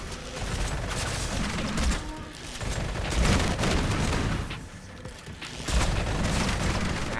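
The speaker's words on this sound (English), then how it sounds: "Why do I bother using anything but the shotgun?" Dense, noisy gunfire and booming blasts in the video game Sulfur, with a shotgun firing in bursts amid clattering mechanical noise, loud and sustained throughout.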